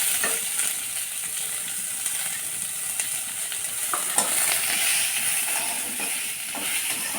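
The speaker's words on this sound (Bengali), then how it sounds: "এবার পেঁয়াজ কুচি দিয়ে দিলাম।" Chopped onion sizzles in a pan of hot oil with browned garlic, a steady close hiss running throughout, broken by faint clinks and stirring scrapes.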